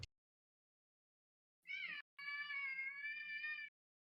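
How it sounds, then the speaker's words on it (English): A cat meows twice, close and clear: a short cry followed after a brief pause by a longer, drawn-out meow, with silence around it. "I think the cat says yes."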